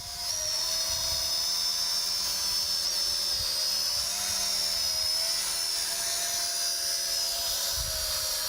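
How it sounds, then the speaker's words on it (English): A small drone hovers with a steady, high-pitched buzzing whine that holds loud and continuous, rising and falling slightly in pitch as it is flown indoors, alone without talk. "Rob's just learning how to fly his drone"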